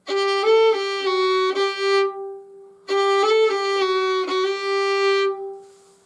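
Bowed fiddle on the D string playing two short bursts of a sustained drone note with quick flicked little-finger tap ornaments, a brief pause between, no voices.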